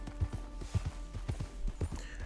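Horse hooves clip-clopping at a steady galloping rhythm while riding in Red Dead Redemption 2, close and fairly loud over a low background hum, with no talking.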